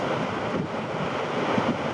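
A giant ocean wave surging in Portugal, heard as a steady broadband roar of surf mixed with buffeting wind noise on the microphone, continuous and fairly loud throughout with no voices.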